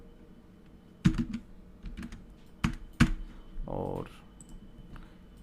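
Code is typed on a computer keyboard in a quick, uneven run of close, sharp key clicks, with someone speaking briefly between them.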